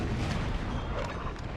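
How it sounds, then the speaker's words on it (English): Cannon fire from 4-pounder artillery batteries in the video game Napoleon Total War, a dense continuous rumble of booming shots blending into loud, sustained battlefield noise. "So we have 2 sets of 4-pounder cannons, 6 in total."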